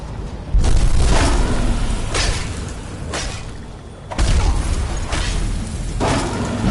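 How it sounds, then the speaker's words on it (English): Heavy booming blasts and rumbling impacts during a dragon attack on the mountain path to High Hrothgar in Skyrim, several loud hits spaced a second or so apart over a dense, roaring background. "A dragon on the path to High Hrothgar?"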